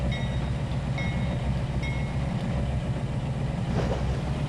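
Train rolling on rails in the Trainz 2022 railroad simulator, a steady low rumble of wheels and cars with faint squeals above, continuous and moderately quiet.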